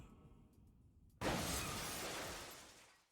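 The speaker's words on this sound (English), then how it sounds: "we continue our trend of breaking very elaborate glass structures" An elaborate glass structure shatters in a PlayStation Syphon Filter game. A sudden loud burst of breaking glass cuts in after a quiet moment and then thins out over about two seconds.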